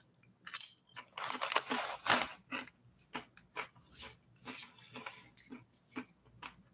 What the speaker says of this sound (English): the chips are still crunchy